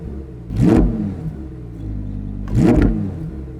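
A Lamborghini Huracán EVO in Corsa mode, its engine blipped twice from a raised idle, each rev a quick loud rise and fall against a steady rumbling idle, with a fuel cut holding it near 2000 RPM.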